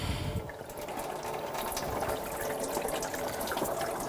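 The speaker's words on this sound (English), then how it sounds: "And drain the coolant." Engine coolant from a 2000-2006 BMW X5 3.0L inline-six drains in a steady splashing stream into a bucket below, a continuous close pour of liquid with no talk.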